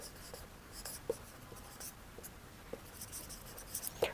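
Handwriting on paper while listing floor-casting labour costs, faint scratchy pen strokes in short irregular bursts with a few light taps, quiet and close without talk.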